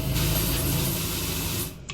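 A pressure washer in PowerWash Simulator sprays a steady, loud, close hiss for nearly two seconds, then cuts off abruptly.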